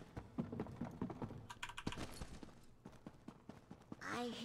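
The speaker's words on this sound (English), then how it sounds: "I hear the footsteps of an outsider." Footsteps from The Elder Scrolls Online: a run of quick, close treads tapping across the ground, uneven in rhythm, with a voice briefly speaking near the end.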